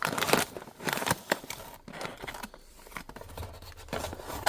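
The packaging of a diecast car parking station is opened by hand, close-up crinkling, tearing and rustling in irregular bursts with brief pauses between them, and no voices.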